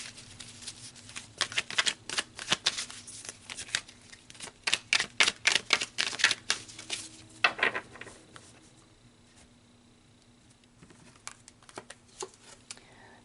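Oracle cards riffle and flick in quick bursts of crisp papery shuffling, close and fairly loud, then a softer pause with a few scattered taps as a card is drawn.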